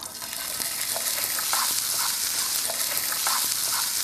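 Leftover rice fries in hot oil with a steady, bright sizzle, and a few soft scrapes and stirs break through the crackling hiss.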